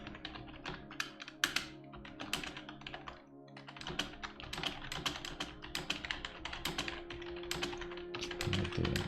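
Typing on a computer keyboard while writing a novel, with rapid, uneven clicks close up, broken by brief pauses and harder key strikes.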